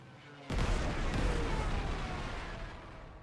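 A tank attack in the Panzer Corps 2 strategy game bursts in after a quiet moment as a sudden heavy gun blast, its deep rumbling boom ringing on and slowly fading over several seconds.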